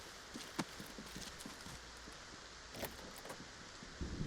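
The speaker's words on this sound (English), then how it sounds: "So many footsteps." Rapid footsteps in the video game Arena Breakout Infinite, a quiet run of soft repeated steps with scattered louder thuds, steady and fairly faint throughout.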